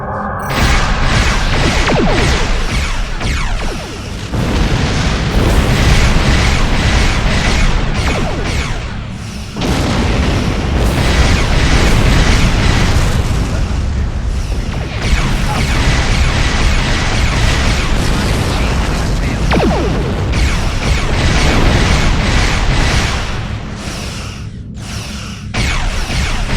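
Enemy ships blowing apart in the Star Trek Online space combat game, a dense, loud stretch of booming explosions and bursts layered over a continuous rumbling wash that barely lets up.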